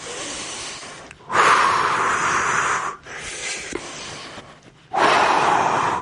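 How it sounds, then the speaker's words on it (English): During a low-impact morning workout, deep breaths move in and out in long, loud, rushing waves, three strong pulls of air split by short pauses and a softer exhale. "Breathe all the way in, deep in and out."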